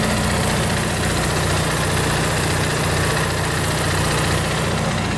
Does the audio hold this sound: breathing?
no